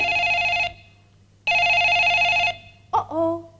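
A telephone rings in two long, steady electronic trills with a pause between, followed by a brief voice at the end.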